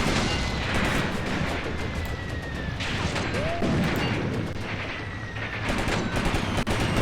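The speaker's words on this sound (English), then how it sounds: "the enemy is definitely trying to dislodge us with that constant artillery fire" Artillery and gunfire in the WWII tactics game Graviteam Tactics: Mius-Front, with a dense, continuous crackle of distant small-arms fire broken by heavier booming blasts, steady and loud from start to finish.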